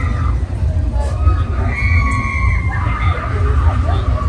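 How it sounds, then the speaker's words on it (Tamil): A crowd behind the speakers shouts and screams in loud, continuous, overlapping voices, with high children's cries rising through the steady din. "பின்னால ஒரே அலறல் சத்தம் வேற"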